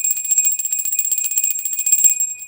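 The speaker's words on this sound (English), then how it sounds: "We cleanse the space with the bell." A small bell is rung to cleanse the space during a tarot reading session, a bright sustained ringing tone with rapid shimmering strikes, close and loud, alone without talk.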